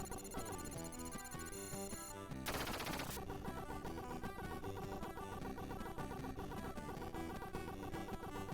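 Rapid video-game gunfire as enemies are shot down, bursts of shots layered over a dense, loud musical soundtrack, with a brief harsh noise burst partway through.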